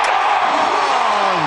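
Stadium crowd at a Detroit Tigers baseball game roaring loudly and steadily after a pinch-hit home run tying the score, a dense sustained wall of cheering with a faint rising whistle-like tone underneath.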